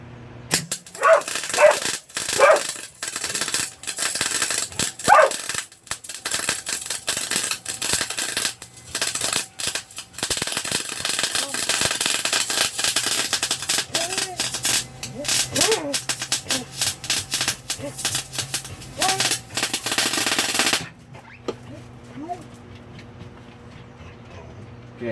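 A MIG welder with a wire feed laying a bead, an uneven crackling and spattering buzz in short and long bursts for about twenty seconds before cutting off abruptly. Someone talks now and then over it.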